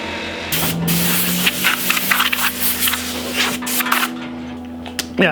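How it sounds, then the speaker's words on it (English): Bursts of air blown across a dusty art piece, steady hissing gusts over a low machine-like hum, broken by brief louder puffs and small knocks near the end. "gonna blow it because it's dusty"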